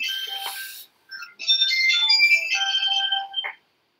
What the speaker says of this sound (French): Téléphone.